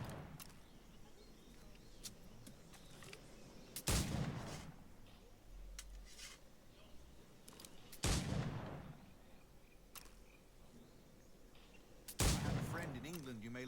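Gunfire rings out in the pirate-era video game Assassin's Creed IV Black Flag, with three loud blasts spaced several seconds apart, each trailing off, over quieter game ambience and faint background sounds.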